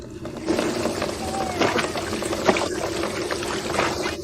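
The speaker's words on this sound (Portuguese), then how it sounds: "Primeiro, encha a banheira com água." Water running into a bathtub as it fills, a steady close pouring rush with splashes and gurgles, overlaid by a faint tonal hum.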